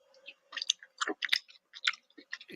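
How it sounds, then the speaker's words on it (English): Someone munching on food close to a live talk-radio microphone: crisp, irregular bites and chewing crunches in quick bursts, fairly near and alone without talk. "What are we munching on today?"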